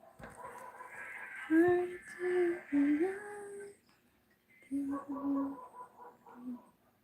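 A pet bird chirps and squawks in short bursts, fairly close, with a pause between two clusters of calls.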